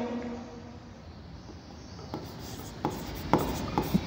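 Pen writing by hand on paper, a quiet, close scratching and rubbing with short strokes and small taps growing busier toward the end, no talking.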